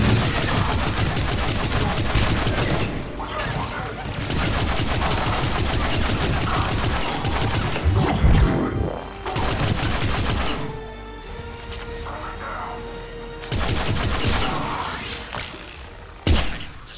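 Intense firefight from the game Mass Effect 3, with dense bursts of automatic gunfire and sharp shots running almost continuously, briefly easing before another heavy volley and a final loud impact.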